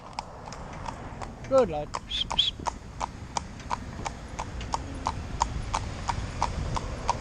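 A young Fell pony trotting, hooves clip-clopping in a steady, even rhythm close by, with a rider's brief voice and a short snort or whinny near the start.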